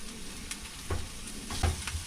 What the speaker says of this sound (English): I love the smell of fresh ginger cooking.